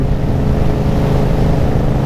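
Steady engine drone from a motorcycle cruising at 80 km/h around 3000 rpm, a constant low rumble mixed with heavy wind rush and no break in level.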